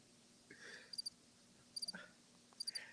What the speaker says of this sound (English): Ziggy, you got the cricket sound effect